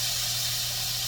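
Vinegar poured into a hot pan while cooking a dish with soy sauce, producing a loud, steady hiss of steam and sizzling that holds evenly throughout, with no talking.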